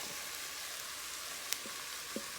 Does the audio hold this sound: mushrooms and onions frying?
yes